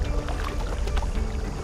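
A kayak paddles through water on a commute to work, giving a steady close wash of sloshing and splashing with no talk.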